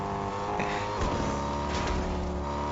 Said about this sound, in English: that player is also driving around in his vehicle